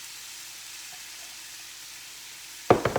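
Onion and two cups of chopped broccoli going into hot oil in a pan for a broccoli quiche: a steady, faint sizzle, then a loud burst of crackling as the vegetables hit the pan near the end.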